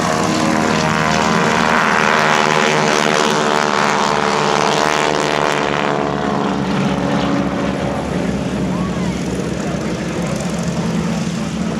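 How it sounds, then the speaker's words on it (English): A North American SNJ-6 trainer plane with yellow wings flies past at a WWII weekend air show. Its loud radial engine and propeller drone steadily and close throughout, and the pitch shifts as it passes. "the yellow-winged aircraft on the inside in an SNJ-6. one of the latest model North American trainers that's flying"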